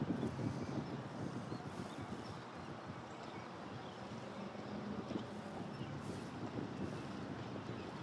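Steady wind buffets the microphone on a bass fishing boat out on Neely Henry Lake. The rushing noise is low and continuous, with faint gusty swells and no talking.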